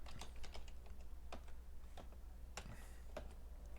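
Computer keyboard typing, a sparse run of crisp key clicks in irregular bursts, close and quiet over a low steady hum.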